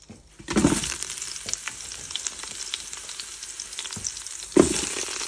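Vegetables sizzle steadily in the hot pan of an Instant Pot, with a loud hiss throughout and a couple of sharp clatters as more pieces drop in.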